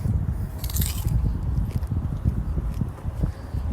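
A whole raw onion being bitten and chewed at close range, with wet, crunchy squishing chews repeating steadily and one sharper crisp bite near the start.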